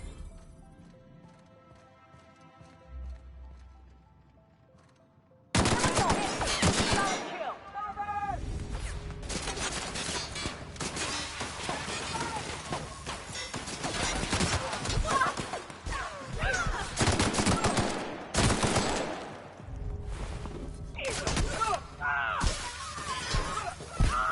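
Video game combat erupts after a quiet opening: rapid, dense gunfire and crashing, shattering impacts continue at high volume, with shouting voices mixed in throughout.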